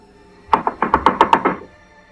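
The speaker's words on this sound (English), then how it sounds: "It didn't take too long before the knocking came again. this time much louder and more frantic." Loud, frantic knocking on a door: a rapid burst of about nine close, heavy raps in quick succession, then silence.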